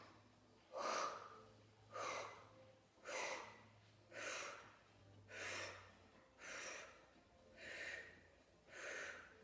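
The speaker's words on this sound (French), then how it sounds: "On inspire." Repeated sharp, breathy inhalations during a boxing-style workout, eight evenly spaced breaths about one second apart, close and loud, with a low hum underneath.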